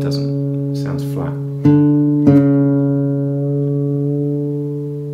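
Acoustic guitar being tuned: a fretted note and the open D string are plucked one after the other and ring together with sustained harmonics, the D string pitched slightly flat, after a few soft touches on the strings.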